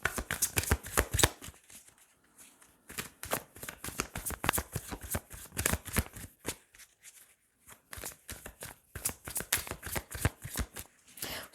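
Tarot cards are shuffled and drawn in rapid, crisp riffling bursts with brief pauses between runs, close-up and moderately quiet.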